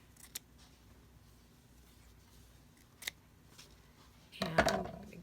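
Scissors cutting paper for decorating a journal: a few isolated crisp snips spaced seconds apart, then a louder cluster of quick cuts and paper rustling near the end, close and quiet, with no voices.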